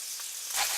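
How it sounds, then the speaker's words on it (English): A fish head fries in a wok with chopped ginger, giving a close hiss that swells suddenly louder partway through the short stretch, with no talk. "lightly fry the fish head in a wok with the chopped up ginger"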